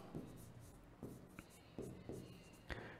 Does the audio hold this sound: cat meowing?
no